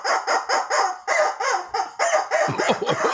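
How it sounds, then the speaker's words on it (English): A rubber chicken squawks in a rapid string of about a dozen loud, close, strained honking squeals, bunched in bursts with short gaps, with no talk over it. "And the rubber chicken says,"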